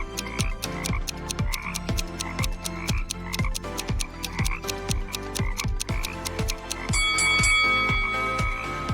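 Toads croak in a steady, rapid series of sharp pulses, close and distinct, running without pause for the whole stretch, with a brighter tonal note entering near the end.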